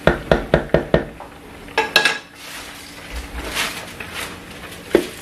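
A metal lid set onto a pot of vegetable coconut rice in a home kitchen: a run of sharp clinks and clatters near the start, a louder rattle around two seconds, then quieter shuffling and one final knock, close and with no talk.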